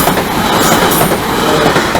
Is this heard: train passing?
yes